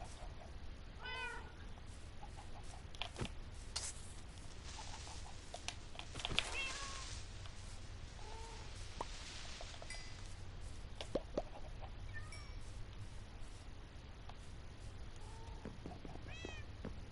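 Cats meowing in Minecraft inside a woodland mansion, several short repeated meows scattered over a low steady background hum, with faint clucking and other game sounds in between.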